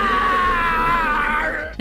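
A man's drawn-out, anguished scream from a horror film starring Nicolas Cage, loud and close, holding a strained wavering pitch for nearly two seconds before trailing off.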